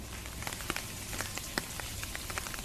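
Hailstones fall steadily during a storm in Bageshwar, a dense patter of many small impacts on surfaces with scattered sharper hits and a louder strike at the end, and no voices.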